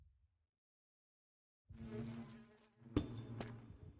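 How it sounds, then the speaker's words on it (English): A skeleton bee from the Minecraft Productive Bees mod buzzes after a silent stretch, a steady close droning hum with a couple of sharp clicks partway through. "I didn't know I had a skeleton bee in one of these"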